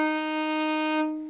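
A single bowed violin D sharp held steadily for about a second, bright and close, then fading out. No voices.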